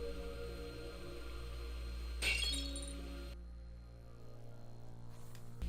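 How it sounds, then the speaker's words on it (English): A glass doll smashed in a video game, a sudden sharp shatter of breaking glass over a steady low game hum, followed by a faint tinkling tail before the background drops away. "Has this woman lost it? Why did she destroy the glass doll?"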